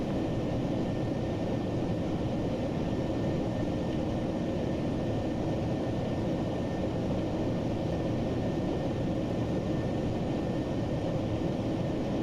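A Boeing 737 rolls down the runway for takeoff in the Prepar3d flight simulator, its jet engines producing a steady, loud broadband roar that holds evenly throughout with a faint whine above it.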